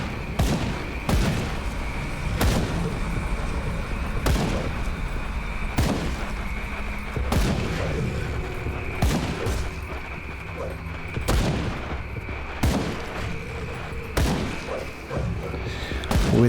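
Gunfire in the video game Grim Dawn, evenly spaced sharp shots roughly every second and a half over a steady humming game ambience, with occasional thuds and someone speaking quietly underneath.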